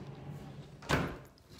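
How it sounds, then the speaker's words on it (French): An indoor door pushed shut at home, a single soft thud with a brief rush of noise near the middle, against a quiet room background. "On va fermer la porte."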